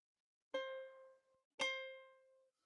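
Two plucked ukulele notes, each an A3 on the A string, ring out clearly one after the other, each decaying slowly into silence.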